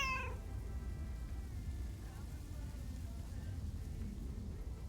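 A cat meows once in a video game, a short, high call at the very start over a low, steady background rumble, then only the quiet ambience continues.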